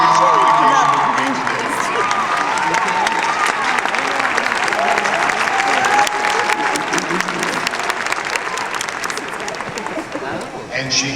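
An audience at a 2013 Point Park commencement ceremony breaks into sustained applause welcoming a graduating speaker, dense steady clapping with a few cheers that fades slightly toward the end.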